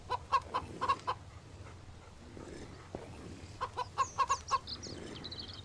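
Chicken clucks in the survival game Mist Survival, a quick burst of sharp clucks near the start, a pause, then another rapid cluster of clucks later, moderately loud over a low background hum.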